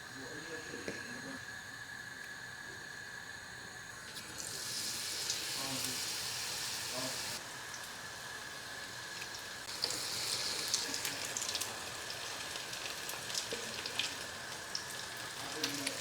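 Battered onion rings coated in corn flour fry in hot sunflower oil with a steady, close sizzling crackle that swells into louder hissing bursts as more pieces go in.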